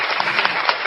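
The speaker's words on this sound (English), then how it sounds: "I can't believe I just gave him applause" Dense, steady applause fills the whole moment, a continuous wash of many hands clapping at close range with no voices over it.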